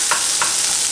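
Salisbury steak with parsley tossed in a frying pan, giving two or three soft shuffling sizzles over a steady background hiss, with no talking.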